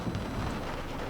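Rain with light hail falling outdoors near Golden, Colorado, a dense steady hiss with low rumbling, brief and fairly close, with no voices.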